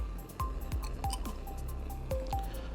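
Liquid from a urine sample dripping and trickling into a glass test tube, with small wet splashes, faint clinks of glass and a steady background hum.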